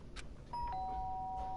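A doorbell in Danganronpa gives a clean two-tone ding-dong, a bright chime followed by a slightly lower sustained tone, heard alone over quiet room ambience.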